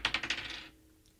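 Dice clatter and bounce in a few quick rattling impacts during a betting show's countdown roll, loud at first and then settling into quiet.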